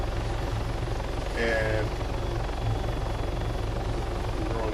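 A helicopter in the Arma 3 flight sim hovers with a steady, dense rotor and engine drone throughout, while a voice briefly speaks over it.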